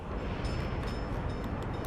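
A train in the Workers & Resources video game idles with a steady low rumble and hiss, even and continuous, with no talk over it.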